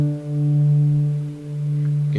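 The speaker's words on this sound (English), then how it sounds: "I recommend playing the harmonic at the 12th fret of the 6th string right there." A guitar harmonic at the 12th fret of the low sixth string rings as one steady, sustained tone, compared against the open fourth string, with a slow pulsing beat as the two pitches sit slightly out of tune.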